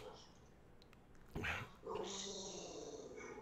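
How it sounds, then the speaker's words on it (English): Shaggy, a pet dog, gives a short growl and yip followed by a longer, sustained whining growl, fairly close indoors. "That's that's Charlie's dog, Shaggy."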